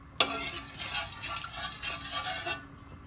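Kimchi is stirred in a frying pan with a steady scraping, sizzling texture, beginning with a sharp utensil tap and continuing as quiet, close stirring for about two seconds before fading.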